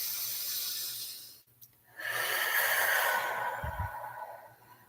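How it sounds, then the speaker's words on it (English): A person draws deep breaths in through the nose, a long airy hiss that pauses briefly and then resumes as a second sustained inhale, close and soft. "everybody just go ahead and breathe deeply in through your nose"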